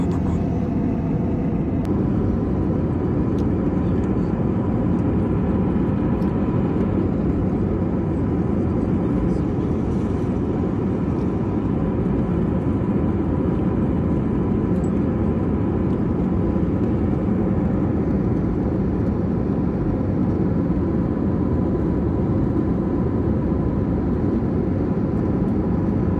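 Low, constant cabin rumble aboard an airliner descending to land near Hong Kong on a flight from Cebu, a heavy steady drone filling the whole stretch with faint clicks and movement on top.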